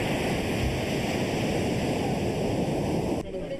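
Ocean waves crash on the coast at Bargny, a fishing community's beach in Senegal, in a continuous, loud roar of surf and wind that drops away abruptly just before the end.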